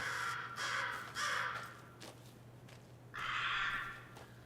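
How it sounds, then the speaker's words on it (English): Several crows caw in the game Alan Wake 2, three loud harsh bursts near to mid-distance with quieter gaps between, over a steady low hum. "Crows are cracking good. They're cackling."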